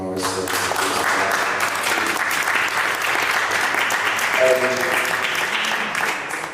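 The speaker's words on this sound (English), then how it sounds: "Make some noise for Toni Morris." A live audience at a London arts centre conversation event gives loud, sustained applause that fills the room, with a few voices mixed in under the clapping.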